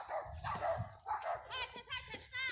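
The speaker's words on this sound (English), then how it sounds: "Dogs are agreeing with fucking dogs." Several dogs bark in short repeated bursts at moderate distance, interleaved with higher yips and whines, over a low background rumble.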